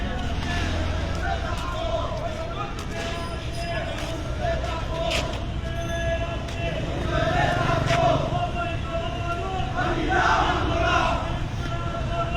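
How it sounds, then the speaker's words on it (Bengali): Crowd of party activists marching in a street protest in Sylhet's Upashahar area, a continuous roar of massed voices and shouting with surges in loudness, close and dense throughout, traffic rumble beneath. "দফায় দফায় বিভিন্ন দলের নেতা কর্মীরা বিক্ষোভ মিছিল করছেন"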